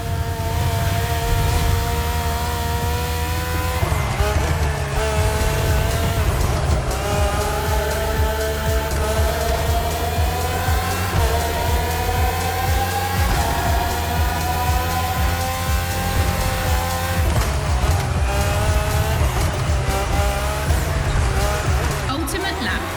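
Race cars from The Crew Motorfest's Red Bull Speed Clash roar continuously, engines climbing and shifting in repeated rising sweeps, with brief tire squeal, loud and steady under a commentator's voice.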